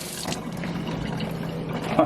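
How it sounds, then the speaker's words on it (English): Tap water runs steadily over a pork butt being rinsed in a sink, a continuous close splashing hiss with a brief louder splash near the end. "I'm just going to run this underwater."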